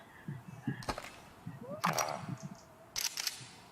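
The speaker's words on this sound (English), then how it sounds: "Quiet though, listen. Single shot." Several short, quiet cracks from a suppressed gun fired at a range in the VR game Into The Radius, spaced about a second apart between soft handling clicks and low voice.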